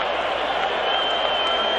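A packed stadium crowd at Game 5 of the 1984 World Series, Padres at Tigers, roars and cheers in a loud, continuous wash of sound with no break.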